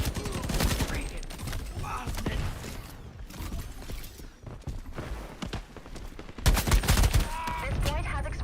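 Gunfire in the shooter game Shatterline, loud crackling bursts of automatic shots with scattered single reports and a heavy volley near the end, while people talk over the shooting.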